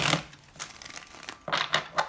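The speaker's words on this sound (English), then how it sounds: "let's just do a little shuffle" A Rider-Waite tarot deck being shuffled by hand gives crisp papery riffles and flicks in uneven bursts, close and clear, with short pauses between them.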